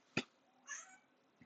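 A cat gives one short, faint meow indoors, quiet and fairly close, set between a sharp thump before it and a soft knock after.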